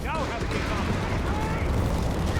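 Rapid machine gun fire from Vickers guns in the video game Company of Heroes 3, a dense, continuous crackle of shots under steady commentary.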